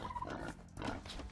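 Turkeys gobble in Age of Empires, a short burst of warbling gobbles heard close and fairly quiet, with no talk over them.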